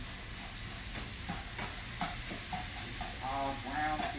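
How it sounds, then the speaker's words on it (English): Ground beef simmers in a small pan for lasagna, a continuous close hiss and sizzle with occasional scraping stirs and faint bubbling pops toward the end, with no talking. "let this meat start simmering"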